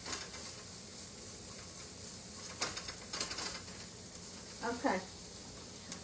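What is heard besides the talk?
sauteing pasta dish ingredients in olive oil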